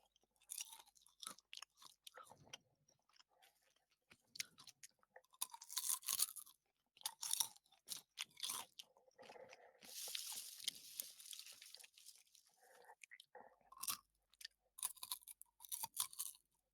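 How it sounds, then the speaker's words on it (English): Popcorn munched close to a microphone over a Discord voice call, giving repeated crunchy chewing bursts in irregular clusters with brief pauses, fairly faint and with no one talking. "Everyone was silenced, hearing the popcorn being munched."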